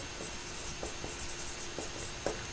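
Chalk or marker scratches out an equation on a board in a quiet classroom, short faint strokes and taps in an uneven rhythm with a soft steady hum behind.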